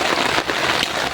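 Heavy rain pouring down steadily in a forest during a fishing and fern-foraging outing, a dense close hiss with no voices.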